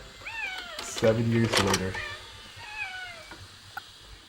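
Several cats meow in a film scene at a woman's home, their thin rising cries coming and going at moderate distance, mixed with a brief loud burst of other sound and overlapping talk.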